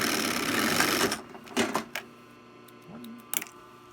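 An industrial sewing machine driven by a foot pedal runs in a steady loud whir and then stops. Several short clicks and a couple of brief stitching bursts follow while fabric is handled, with no talk.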